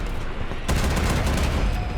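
Ship cannons fire in a naval combat video game, a sudden booming volley breaking out after a quiet start, followed by rolling, crackling reverberation.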